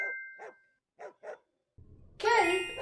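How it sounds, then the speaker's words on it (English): A dog barking three or four times in short sharp yaps, close and clear, followed by a bright chime-like cartoon sound effect. "That sounds like a dog barking."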